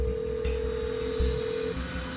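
A telephone call is placed to a woman named Courtney, with a steady electronic phone tone holding for nearly two seconds and then cutting off, over a faint low background hum.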